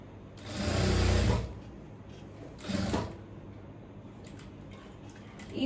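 Sewing machine stitching around the edge of an A-line kurti with a pleated front and V collar, two loud whirring bursts of about a second each separated by quieter handling noise.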